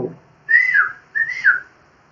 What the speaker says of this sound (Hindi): लड़की अगर सीटी बजाए, लो